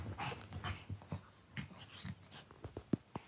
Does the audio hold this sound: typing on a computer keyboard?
no